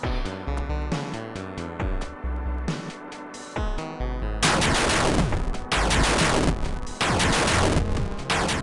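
Bomb blasts in the video game Rockbot, a dense barrage of loud, rapid explosive bursts with game music, growing thicker and fuller halfway through and sustained for several seconds.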